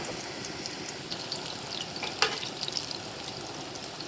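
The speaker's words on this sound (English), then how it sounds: "I never fried sweet potatoes this way." Sweet potatoes fry in a pan at a campsite, making a continuous, close crackling sizzle with scattered pops and one sharper clink partway through, and no voices.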